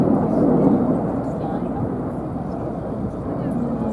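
Red Arrows RAF jets flying the slalom manoeuvre at the 2019 New York Airshow, a steady, loud, broadband jet roar filling the clip without a break and swelling slightly at the start.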